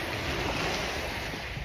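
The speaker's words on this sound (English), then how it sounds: "the waves coming in are a little bit louder" Ocean waves roll in under steady wind, a continuous broad wash of surf with gusty wind noise buffeting the microphone close by.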